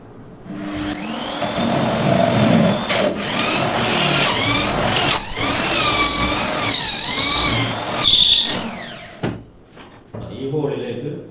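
A power drill with a 10 mm bit enlarges a small hole in wood while a wooden rocking easy chair is built. The motor whines steadily and close, its pitch sliding as the bit bites, while someone talks over it.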